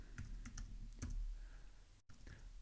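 Someone types a meeting entry into a calendar app on a computer keyboard, with a quick run of soft, close keystrokes, a short pause, then a few more taps.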